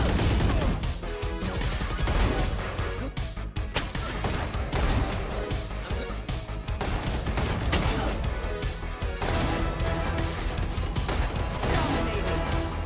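Guardian rifle gunfire in a VALORANT deathmatch, a long run of loud, sharp shots and impacts coming in rapid irregular bursts over constant game noise.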